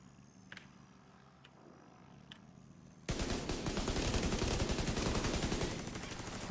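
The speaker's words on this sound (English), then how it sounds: "I'm just firing to let them know where I am" Sustained rapid gunfire from the player's own weapon in a video game. After three seconds of quiet with a few faint clicks, the firing erupts loud and close and continues in a steady stream to the end.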